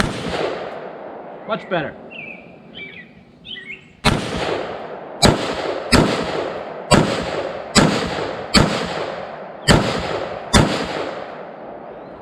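FN AR-15 rifle topped with a Vortex Strike Eagle 1-8x24 scope, fired at a shooting range: eight loud, sharp reports at a steady pace, each with a short echo, following a brief remark and some quieter handling sounds.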